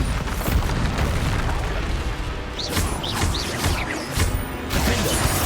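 Bombarda spell explosions in Hogwarts Legacy, a dense run of booming blasts and crashing bursts over a constant loud wash of game noise, with no pause.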